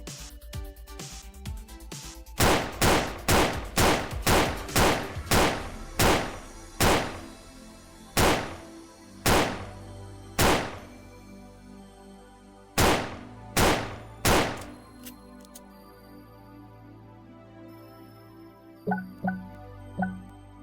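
Pistol gunfire from the video game Project Titan: a rapid string of sharp, loud single shots, then slower spaced shots with pauses, ending in a quieter tail of clicks and thuds.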